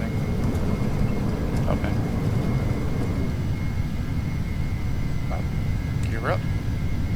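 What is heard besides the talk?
aircraft engine thrust at takeoff in video game Flight Simulator X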